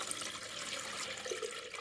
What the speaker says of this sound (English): then we pour our water into here